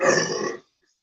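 A single loud burp from a man, close and brief, about half a second long and then silence.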